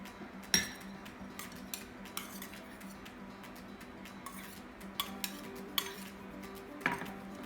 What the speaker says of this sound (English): Now guys, we're gonna add all of the ingredients in a bowl.